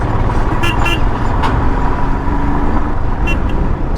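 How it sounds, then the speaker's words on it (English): A vehicle horn toots a few short times on a narrow mountain road descending toward Manali, heard over steady engine and road rumble during a ride. "Just hit the horn for the workers"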